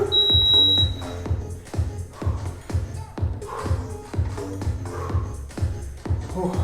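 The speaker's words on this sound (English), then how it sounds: "I know the timer's gonna be done" A workout timer alarm beeps loudly and steadily for about a second at the start, then stops, leaving heavy breathing and movement sounds from a dumbbell session.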